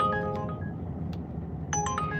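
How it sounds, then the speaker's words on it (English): A phone chimes with a short melodic order alert from a food delivery app, two bursts of tonal notes over a low rumbling background, with no talking. "Another delivery's coming through."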